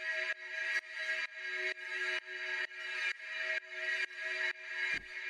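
A techno synth drone from an FM operator patch holds one long F sharp note. It pulses in a steady rhythm of repeated bright, buzzy chopped bursts with no voices.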